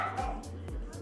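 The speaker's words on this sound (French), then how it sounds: "excusez-moi, mon chien jappe" A pet dog at home barks four times in quick, evenly spaced bursts, close and moderately loud, with a person's voice underneath.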